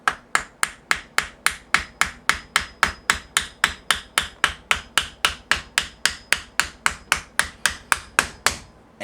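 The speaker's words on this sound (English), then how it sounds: "I'm going to use a little hammer action." A small hammer tapping a part into a Ruger 10/22 ArchAngel 556 kit, about thirty crisp, evenly spaced strikes in a steady rhythm, close and fairly loud, each with a short ringing decay.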